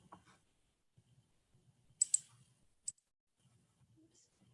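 Mouse clicks while working in Microsoft Excel, a few sharp close clicks, two in quick succession then one more, over faint low murmuring in a quiet room.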